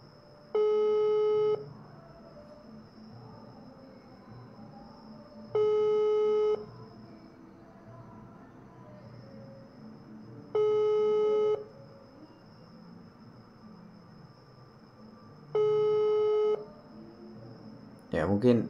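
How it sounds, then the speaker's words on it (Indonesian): An unanswered telephone call rings out in four evenly spaced electronic tones, each about a second long with several seconds of quiet between, over a faint steady hum, with a voice talking in the background. "Saya telepon tapi belum diangkat."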